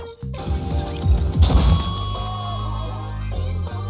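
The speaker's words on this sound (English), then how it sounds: "Why are you smashing up a perfectly good guitar?" Guitar smashing in the NIKKE video game: a cluster of hard cracking whacks and crashes over a sustained musical backdrop, loudest in a burst near the middle, then ringing tones linger.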